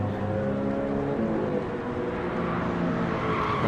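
A race car in a racing video game drifts through a corner, its tires squealing in a long continuous screech over a steady engine drone, loud and close.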